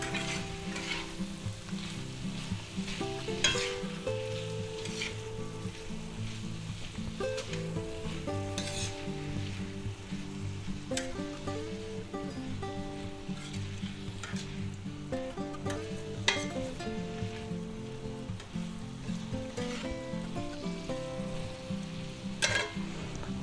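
Pre-cooked steak with garlic powder fries in a pan while a utensil stirs and scrapes through it, a continuous sizzle broken by repeated clinks and scrapes, with no talking.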